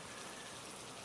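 Rain falls steadily at night, a soft, even hiss with no distinct drops or pauses.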